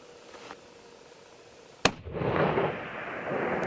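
A single loud, sharp rifle crack rings out from a cliff at a Coues deer buck at dusk, followed by a rolling echo and lingering outdoor rumble.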